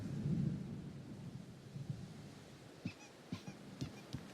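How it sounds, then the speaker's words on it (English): An approaching thunderstorm in the video game Alan Wake, with a low rumble of thunder at first followed by several sharp, separate cracks or knocks spaced about half a second apart, moderately loud and with no talking. "The storm is almost here."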